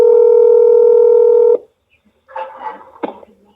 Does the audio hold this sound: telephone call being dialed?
yes